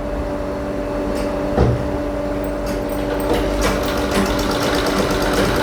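A sewing machine stitches cloth in a tailoring training class, running as a steady, loud, continuous whir with fast rhythmic mechanical clatter throughout and no talking.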